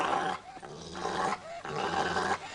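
A small pet dog growls, low and rumbling, in three close, sustained bursts separated by short breaks.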